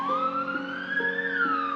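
An ambulance siren wails in a rising and falling electronic tone, loud and close, with a steady repeating pulse underneath and no voices.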